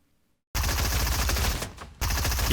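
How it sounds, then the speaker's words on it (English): Rapid continuous automatic gunfire in Fortnite hammering a built wall, a loud dense burst with a brief dip before the barrage resumes. "So go ahead, Johnny, shoot at my wall."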